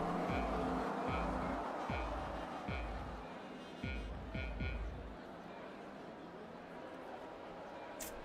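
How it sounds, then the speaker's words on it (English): Race car engines rev in a racing video game on the grid before a start at Circuit de Barcelona-Catalunya, with repeated low throttle blips and a steady mechanical drone, loud and close, fading into a flatter hum. "we can see the engines revving"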